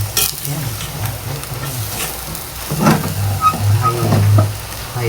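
Chicken and carrots stirred and frying in a pan, with a steady sizzle and scraping stir strokes that swell louder midway, close and alone without talk.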